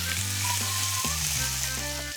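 Food sizzles on an oiled griddle pan in a kitchen in Florence, a loud continuous hiss with faint tonal hum running beneath it.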